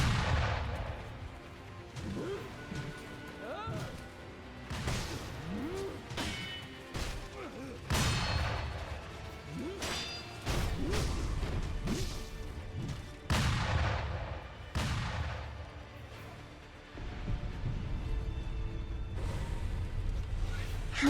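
Gunfire in a video game, someone shooting through a wall: repeated heavy shots and booms burst at irregular intervals throughout, loud and close, under a busy game soundtrack.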